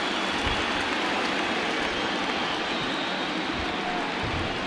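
Steady broadband hiss of rain falling across a ballpark during a 2021 Cubs–Yankees baseball game, a continuous even wash with no talk, ending in a brief sharp tap.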